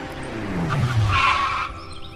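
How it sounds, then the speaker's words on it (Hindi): A car rushes in and skids to a halt, tires squealing loudly for about two seconds over a rising engine rumble, the screech fading at the end. "ये मैनेजर साहब की गाड़ी इतनी जल्दी क्यों आई है?"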